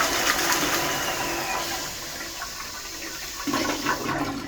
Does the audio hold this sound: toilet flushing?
yes